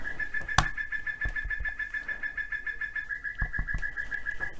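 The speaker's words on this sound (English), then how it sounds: "My clock chirps." A clock chirps like a bird, giving a steady, warbling high-pitched trill that runs almost the whole time, with a few soft tapping knocks underneath.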